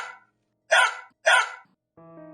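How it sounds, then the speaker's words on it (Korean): A dog barks twice, sharp and close, in quick succession after a short vocal sound, then a low sustained electronic tone starts up with no talking. "개 짖는 소리가 들려왔습니다"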